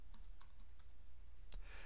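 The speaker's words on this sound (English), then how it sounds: "So we'll type in a company name" Quick light keystrokes on a computer keyboard while entering a company name into a data-entry form, a short irregular run of soft clicks close by with no talk.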